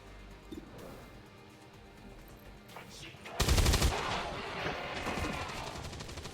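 In XCOM 2, a loud burst of gunfire erupts midway, with a sharp impact followed by rattling shots, after a quieter stretch of game ambience.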